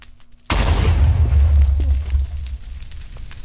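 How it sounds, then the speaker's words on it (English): A small explosion from a butter projectile landing in the Minecraft Derpy Squids mod, in the squid dimension, with fires spawning: one sudden loud boom that rolls into a rumbling, crackling decay over a few seconds, with no talk. "when it lands, it will do a small explosion"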